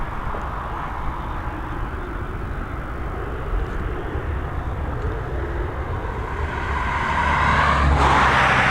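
A Delta airliner takes off at Dublin Airport, its engines a steady, broad roar. The roar stays loud and fairly distant throughout and swells near the end, with no talking.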